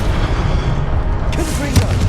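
The Incendio fire spell cast in Hogwarts Legacy: a loud, booming whoosh over dense game noise, with a sharp burst near the end and a voice speaking partway through.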